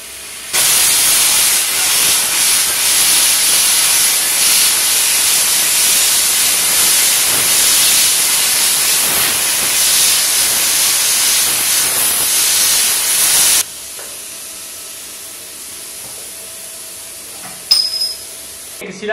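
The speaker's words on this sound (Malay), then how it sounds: "So sekarang ni kita akan potong besi tebal 6mm dengan current" A plasma cutter slices through 6mm steel plate at 30 amps, a loud, steady roaring hiss that runs unbroken for about thirteen seconds, then cuts off abruptly, leaving quiet room tone and a few faint clinks.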